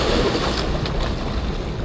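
Surf washing against the Tampa Bay shore, a constant close roar of breaking water mixed with gusty wind buffeting the microphone.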